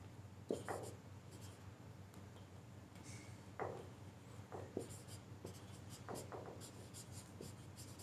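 Writing on a board during a Hindi grammar lesson, a quiet series of short scratchy strokes in irregular bursts over a low room hum, with no talking.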